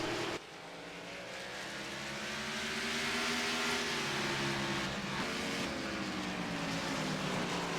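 Race cars lapping the Martinsville short track in the iRacing simulator, a steady loud engine drone with rising and falling pitch sweeps as the cars work through the corners, continuous with no talk.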